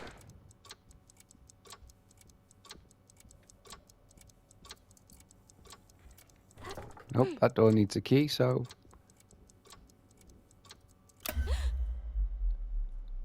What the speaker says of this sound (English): That's a weird clock.